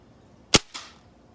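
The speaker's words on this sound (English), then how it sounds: "I'm shooting at 25 yards." Gamo Swarm Gen3i .22 caliber wood-stock air rifle firing once, a sharp crack followed a moment later by a softer thwack of the pellet striking a target 25 yards away, in otherwise quiet surroundings.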